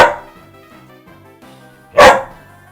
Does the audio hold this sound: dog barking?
yes